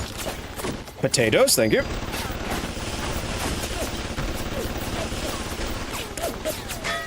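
Rapid gunfire in the video game BioShock, a dense stream of shots continuing throughout, with a louder burst early on where a voice briefly speaks over the shooting.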